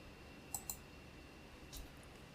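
A couple of sharp computer mouse clicks in quick succession, crisp and close, pressing a go button in quiet room tone, with a faint softer tick following a moment later.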